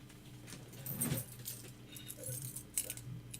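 A bunch of keys jangles close by in short metallic bursts of clinking, loudest in the middle with a few smaller rattles after, over quiet background hiss and no speech.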